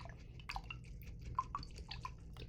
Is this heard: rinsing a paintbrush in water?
yes